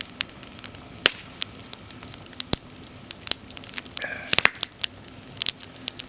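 Outdoor bonfire crackling with scattered sharp pops and snaps over a low steady hiss, close and fairly quiet, with irregular bursts clustering toward the end.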